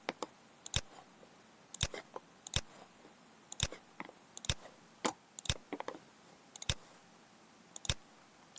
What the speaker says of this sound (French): Et là, comme je dis, je clique n'importe quoi.